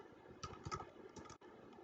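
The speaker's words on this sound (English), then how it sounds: "I'm going to type in this note" Keys clatter on a computer keyboard as a note is typed into Inventor CAD software, a quick close run of taps with a short pause near the end.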